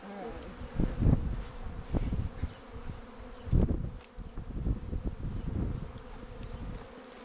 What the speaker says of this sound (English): Now these guys are Russians, and they're also a really nice hive